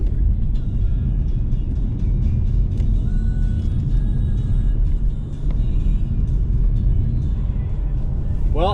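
A car rolls over a landfill with a heavy, continuous low rumble of engine and rough ground noise, close and steady, with a few faint clicks and a brief dip in level.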